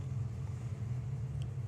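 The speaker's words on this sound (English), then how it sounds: "So this beautiful 67 Nova coming round the corner" A 1967 Chevrolet Nova hot rod rounds a corner at a drag racing event at Santa Pod Raceway, its engine a low, rumbling burble at moderate distance, steady and fairly faint with no talk.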